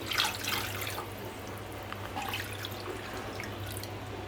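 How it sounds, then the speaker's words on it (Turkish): Water poured over chicken legs in a cooking pot, a steady close splashing and trickling that starts louder and settles into a continuous running flow with no talk. "Üzerine geçene kadar da su ilave ediyorum."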